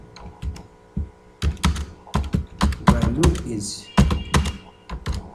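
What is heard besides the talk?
typing code on a computer keyboard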